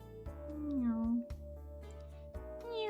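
A human voice imitates a cat with a few drawn-out, pitch-sliding meows over a steady background tone, sounding close and moderately loud.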